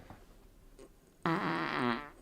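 A loud, rasping fart erupts after a short quiet stretch and rumbles on steadily for about a second, close and unbroken, with no voices over it.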